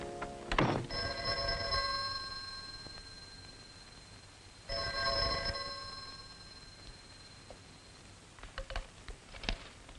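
An old-style telephone bell rings in two long metallic trills separated by a pause, fairly close, followed by faint rustling and clicks in a quiet room.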